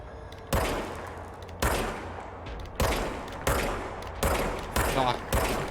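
Gunfire from a weapon in the video game Control: seven sharp, loud shots at irregular intervals, each with a short decaying tail, alone without talk.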